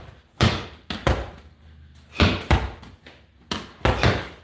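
A medicine ball is slammed into the ground over and over in a cardio conditioning workout. It gives loud, close thuds in pairs with a short bounce after each impact, with quiet gaps between the pairs and no talking.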